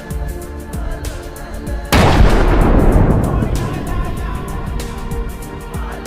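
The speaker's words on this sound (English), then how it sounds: "The vehicle is engulfed in flames and eventually explodes in a massive blast." Armored vehicle on a battlefield exploding after a drone strike: a sudden heavy blast with a long rumbling roar that slowly decays, with rapid crackling detonations before and after, loud and close.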